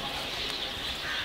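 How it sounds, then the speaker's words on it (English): A flock of birds calling together, a steady, bright chorus of overlapping chirps and coos held at even loudness throughout, with no voices. "This is a flock of birds."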